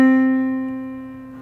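A single sustained keyboard note C sounds clearly on its own, with a bright attack that decays smoothly over about a second and a half and a steady pitch throughout.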